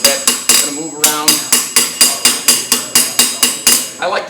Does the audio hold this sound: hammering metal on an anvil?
yes